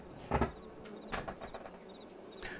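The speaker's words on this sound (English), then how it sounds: "The bees are in full force at the minute." Bees buzz in a farming simulation game, with a faint, wavering drone. Louder swells pass close by a few times in quick succession over a quiet background, with no one talking.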